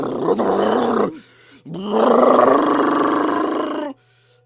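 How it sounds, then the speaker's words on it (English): A rumbling, earth-shaking roar from a Pokemon creature, loud and close: a long growling burst, a short pause, then a second, longer roar that holds steady before cutting off. "And it lets out a rumbling, earth-shaking roar"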